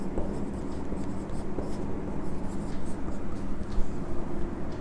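A teacher writes the rate law on a board during a chemical kinetics lesson, producing steady scratchy marker or chalk strokes close by over a constant low room hum and faint background voice.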